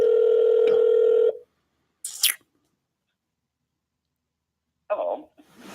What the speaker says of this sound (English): dialing through the numbers today